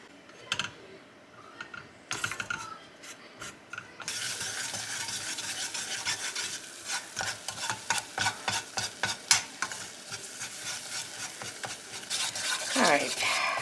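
Butter and flour roux stirred in a pan over very low heat, a steady quiet sizzle with repeated scraping strokes of the utensil in close, uneven rhythm, occasional faint voice.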